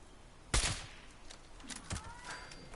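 Gunfire in the video game Fallout 76: a sharp, loud shot burst near the start, then a second weaker report, followed by scattered fainter clatter.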